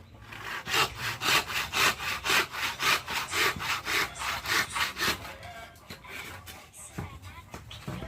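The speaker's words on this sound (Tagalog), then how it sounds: "Naglalagari naman po si Makoy." Makoy hand-saws wood for a papag, a wooden bed, in about a dozen steady, rhythmic rasping strokes up close, followed by rougher, irregular scraping and knocks.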